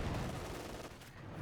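Dense battlefield gunfire from a Company of Heroes 2 match between US rangers and German Panzergrenadiere and a StuG, rapid overlapping shots forming a continuous, fairly faint crackle.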